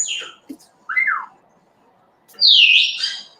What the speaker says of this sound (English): aren't you a fun parrot?